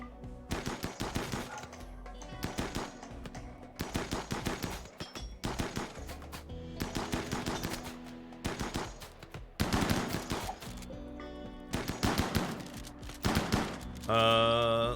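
Repeated bursts of rapid automatic gunfire from a RimWorld colony battle, clustered in sharp volleys with brief gaps over about fifteen seconds, fairly close, ending in a higher whining tone.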